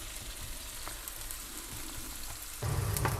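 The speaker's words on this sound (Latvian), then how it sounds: "mēs pieliksim klāt sēnes, bišķi apcepsim" Mushrooms added to a pan with browning onions sizzle and fry steadily at close range, the hiss swelling louder near the end as the pan heats up; no one speaks.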